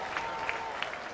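A baseball crowd at a ballpark cheers and applauds steadily with a few sharp accents, a broad sustained roar filling the stands after a boat horn.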